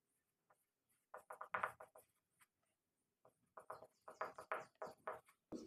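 A pen or marker scratches out handwritten equations during a math lesson, with quiet short strokes in clusters separated by pauses, close and soft.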